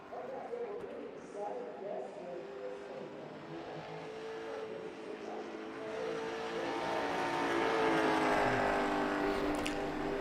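A late model stock car engine on a qualifying run, droning steadily and building louder toward the end, with a commentator talking over it.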